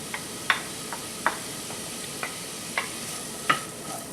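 Vegetables stir-frying in hot oil make a steady soft sizzle, punctuated by several sharp clicks and scrapes of a utensil against the pan at irregular intervals.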